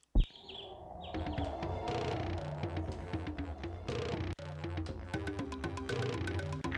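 Busy birdsong from the video game LSD, layered chirps and tweets over a dense, musical ambient bed, steady throughout with one brief dropout partway.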